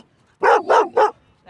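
Three quick, loud barks from a single nearby dog at a dog park, evenly spaced, with another bark starting just after.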